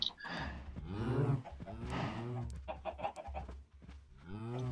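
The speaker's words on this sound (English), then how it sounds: "Come on, pump the chicken. There we go. The chicken's coming through." Chicken clucks and squawks from a Minecraft Feed the Beast modded game, several bursts close and fairly loud, with a brief gap midway before more calls.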